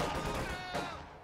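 Soviet conscript rifle fire in Company of Heroes 2, a clatter of overlapping gunshots that fades over about a second and leaves a ringing decay, moderately loud.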